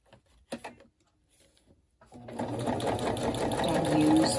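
A sewing machine stitches paper hinges onto a journal page for a slit-and-slot binding. A few faint taps and clicks lead in, then a steady, close, buzzing run of stitching builds and holds to the end.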